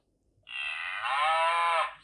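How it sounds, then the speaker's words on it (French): A cow on a farm lets out a single long, loud, drawn-out moo that swells slightly before cutting off, heard clearly on its own. "C'est la vache qui meugle."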